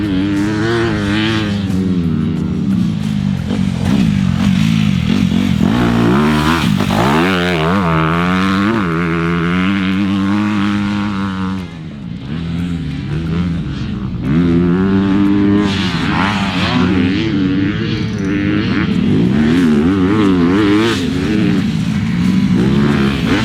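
A 2020 Honda CRF250 motocross bike ridden hard, its engine loud and close, revving up and down through shifts with a brief dip before surging again.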